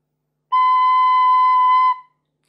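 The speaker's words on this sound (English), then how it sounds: "cover the first hole of the tin whistle and blow gently" A single tin whistle sounds the note B, first hole covered and blown gently, as one clear, steady tone held for about a second and a half against silence.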